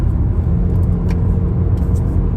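Interior of a car driving on the road at night, a steady loud low engine and road rumble, continuous and close, with faint higher clicks above it.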